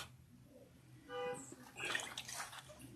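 Tap water runs and splashes in a sink while facial scrub is rinsed off, starting as a soft trickle and swelling into a fuller, louder pour with light spattering.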